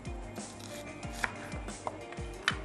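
A knife chops onions on a board in a kitchen, making about five evenly spaced, fairly quiet cuts with a soft scraping between strokes and no speech.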